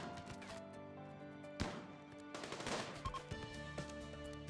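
Gunfire aimed at a raider in RimWorld, a colony game, with one loud sharp shot and then a quick burst of crackling shots over steady game music.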